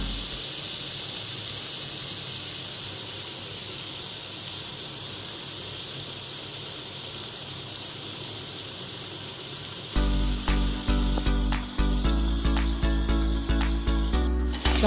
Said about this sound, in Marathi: आता मी कर्दीमध्ये हिरवी चटणी लावलेली आहे आता हे आपण त्याच तेलामध्ये सोडूया